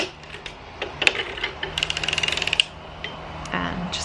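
A sock knitting machine turning a heel gives a quick run of about a dozen light, even mechanical clicks, with a few scattered ticks and soft rattles before and after, close and fairly quiet.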